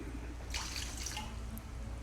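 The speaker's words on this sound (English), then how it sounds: "I'm just gonna pour some water in here" Water is poured into a pot for cooking, a short quiet splashing trickle that swells briefly and then fades, with no talking.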